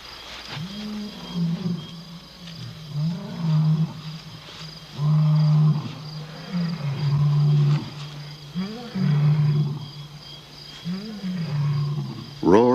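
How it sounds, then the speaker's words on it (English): Male lions roar in the African night, a sequence of deep, grunting roars in rhythmic bursts that rise and fade repeatedly, loud and fairly close, with a narrating voice in parts. "Roars in the night can mean danger for the pride."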